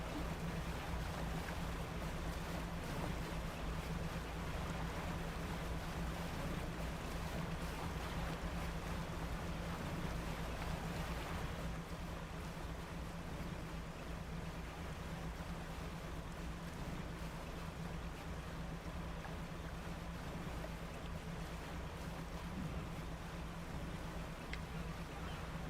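Boat engine in the fishing game Dredge, a steady droning hum running continuously under wind and lapping water, with no voices.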